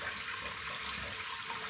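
A tap in a minimalist kitchen runs at full force, producing a dense, steady hiss of rushing water that stays loud and unbroken throughout, close by and without any voices.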